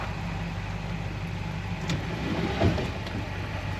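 A 1964 Rambler Ambassador 990 engine runs at a steady, even idle, a close continuous low rumble with a slight swell in the middle and no talk over it.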